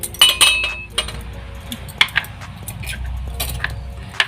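Small containers of asafoetida (hing) clink and clatter as they are handled in a small home kitchen, several bright, sharp knocks scattered irregularly with quieter rattles between them, close by.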